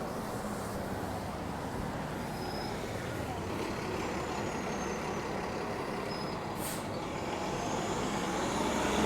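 A bus rolls past on the Macdonald Bridge at night, a steady loud engine and road roar with rushing wind that swells slightly toward the end and holds throughout.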